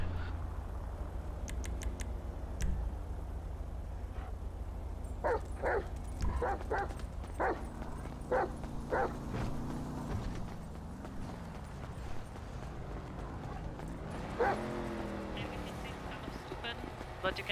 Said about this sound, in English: the dog is barking and sticking to one area